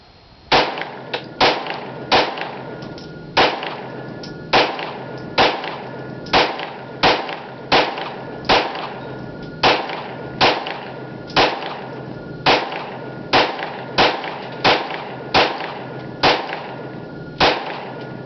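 Glock 19 pistol with a window-cut slide and threaded barrel firing 20 Winchester 115 grain rounds: a steady string of sharp, loud gunshots about once a second, each cracking report followed by a short echo, with no talking.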